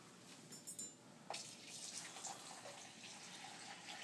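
Sterile 0.9% sodium chloride irrigation fluid pours from a bottle into a bowl on an operating room table, a steady splashing trickle that runs on without a break and stays close and moderately quiet.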